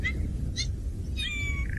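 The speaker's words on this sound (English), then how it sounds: "Do you hear that sound? Oh, the fish eagle's flying in." An African fish eagle calls from a distance in short, high, ringing yelps over a steady low rumble of wind and outdoor background.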